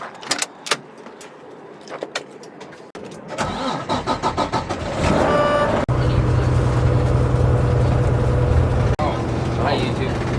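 A car rolls in: scattered knocks and clicks, then an engine turns over and settles into a loud, steady idle with a low droning hum, close by.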